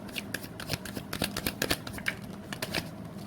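Tarot cards being shuffled and drawn, a quick uneven run of soft riffling snaps and flicks, close and quiet, with no talking.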